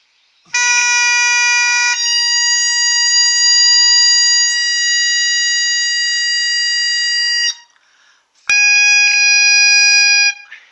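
A loud, steady reedy bagpipe chanter drone, its F note sharp, holds for several seconds, cuts off, then returns for a shorter burst. The tone is harsh and buzzy.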